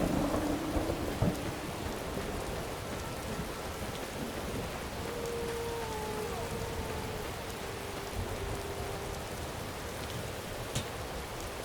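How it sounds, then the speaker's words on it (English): Rainy thunderstorm in the game Morrowind: continuous hiss of falling rain with a soft low rumble early on and faint tonal ambience, steady and moderately quiet throughout. "Gosh, this storm isn't letting up."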